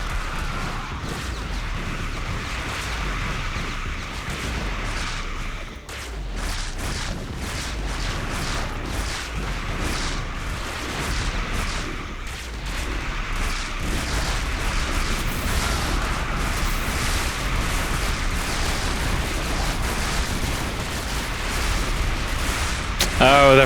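Mines detonate in StarCraft: Brood War, a dense run of booms and crackling blasts under continuous excited commentary from a caster throughout.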